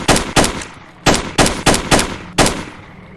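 Six loud, sharp gunshots from a 60-round gun in the video game Stalker Call of Pripyat, fired in an uneven rhythm with short echoing tails and no talk.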